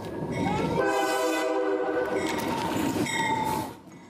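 A speeding train in Seattle roars past close by, its horn sounding in loud, sustained harmonic blasts over heavy rumbling rail noise that fades out at the end.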